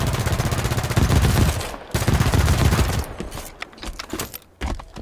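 Loud bursts of automatic weapon fire from a gun in Halo 5: Guardians, rapid rattling volleys broken by short pauses, then scattered single shots and trailing echoes toward the end.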